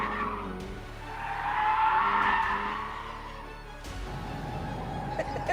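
A lightweight sports car, near a hot Renault in size, sweeps through a corner at speed, tyres squealing and skidding in a long rising and falling screech over the steady engine drone, close and fairly loud.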